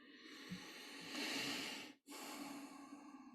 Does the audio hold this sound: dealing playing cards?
no